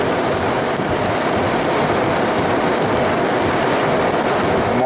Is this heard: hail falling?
yes